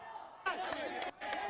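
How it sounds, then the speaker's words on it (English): Zahira College supporters cheering at a schools rugby knockout match, bursts of distant crowd roar and chanting that swell, drop briefly and rise again. "The Zahira College crowd clearly coming into the party here, making sure that the players are motivated."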